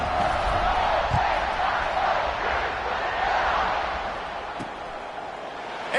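Stadium crowd in an American football video game, a steady broad roar and murmur of many voices buzzing after a touchdown, continuous and fairly loud with a slight fade toward the end.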